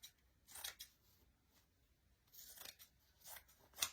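Scissors snip through fabric for a canvas wall art project, a few faint, crisp cuts spaced irregularly in a quiet room, with a sharp final snip at the end.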